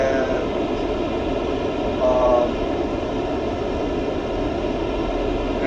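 A JF-17 Thunder jet in DCS World with a steady, loud engine roar and whine held throughout, under a voice talking.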